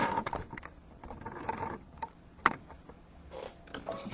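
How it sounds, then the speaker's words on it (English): A home embroidery machine runs a tacking stitch, a steady mechanical ticking and whirring with repeated clicks and one sharper clack midway, close and without voices. "This is the tacking stitch, which is number 4 on your machine."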